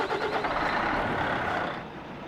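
A Volvo Comil bus engine in American Truck Simulator starts with a loud, rough mechanical roar and rattle that holds steady and then eases slightly toward the end.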